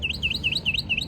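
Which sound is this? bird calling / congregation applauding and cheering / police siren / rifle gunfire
bird calling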